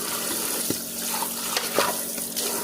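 Tap water runs steadily into a kitchen sink being washed down with bleach after cleaning chicken, a continuous splashing hiss with a few louder clinks and sloshes rising out of it.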